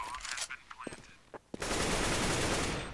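Gunfire in Counter-Strike on the Mirage map during a competitive match: scattered shots and short bursts over the first half, then a sustained loud barrage of automatic fire that fills the rest.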